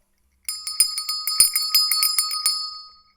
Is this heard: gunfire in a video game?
no